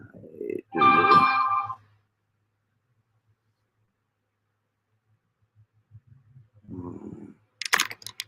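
A short electronic notification chime rings out near the start with bright, ringing tones, then quiet follows, with faint voices and a click near the end.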